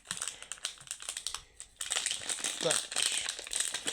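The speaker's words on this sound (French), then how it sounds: "Faut encore que j'arrive à ouvrir le pocheton" A plastic Pokémon card pouch crinkles and crackles in close, irregular bursts while someone fumbles to tear it open, with a voice speaking over part of it.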